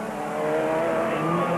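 Race cars, including Rod Millen's passing Craig Draper on the outside in the 1997 Super Series, scream past on track, their loud engines whining and rising in pitch as they go by, with a constant roar and no talk.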